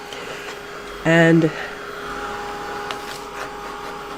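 A hair dryer runs in a short, loud burst of about half a second over a watercolor painting of lace, steady whirring hum then cutting off, with a brief spoken word nearby.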